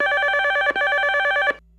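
A telephone rings loudly and close, two long electronic trilling bursts in quick succession before it cuts off, in a Barbie cartoon.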